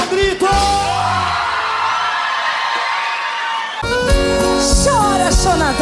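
A live sertanejo concert audience yells and whoops loudly together for a few seconds, a sustained crowd roar between bursts of band music.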